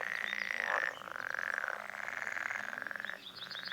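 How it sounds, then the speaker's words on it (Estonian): Frogs croaking near a pond, a dense, steady chorus of rapid pulsing calls with bright overlapping trills, fairly close and continuous with no talking. "Rööv konn püüdis tavakonna kinni."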